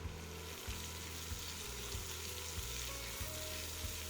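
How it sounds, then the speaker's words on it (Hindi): Cumin seeds, chopped green chillies, ginger and curry leaves frying in a pan, a loud, steady sizzle with constant crackling and faint stirring scrapes, close up and without talk. "फिर इसी पैन में मैं डाल रही हूँ 1 टीस्पून जीरा, 2 से 3 बारीक कटी हुई हरी मिर्चें, 1 टेबलस्पून बारीक कटा हुआ अदरक, 10 से 12 करी पत्ता और हम इन सारी चीज़ों को फ्राई कर लेंगे"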